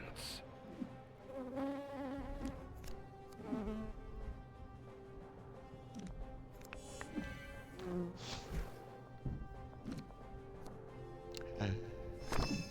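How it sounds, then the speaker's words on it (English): A bee swarm buzzes in the video game Popup Dungeon, a droning insect hum mixed with game effects and music, with someone talking over it throughout. "Death by bee swarm."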